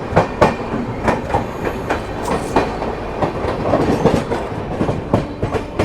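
The Mahabodhi Express rolls along the rails with loud, rhythmic clickety-clack of wheels over joints, a close steady rumble from aboard the moving train.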